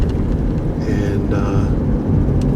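A 2022 Chevrolet Corvette Stingray Z51 on the move gives a deep, steady engine rumble with brief rising and falling tones as it gears down and shifts, under heavy road and wind noise.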